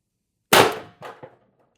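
A single sharp crack from an Umarex TR50 air rifle with a tuning barrel, loud and close, followed by two quick, fainter knocks as the pellet hits the target, then silence.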